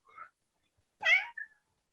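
A house cat meows close by, a short chirp followed by a louder, drawn-out meow and a quick trailing squeak, with silence between the calls.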